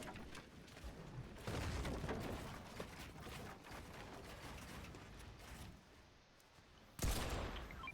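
Rapid bursts of Fortnite gunfire with mechanical clicks during an esports playoff match, crackling volleys coming in clusters, a loud sharp blast near the end.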